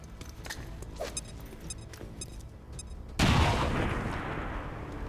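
A weapon fires in XCOM 2 on Nintendo Switch, a sudden loud blast after some light clicks and interface beeps, trailing into a sustained rumbling roar.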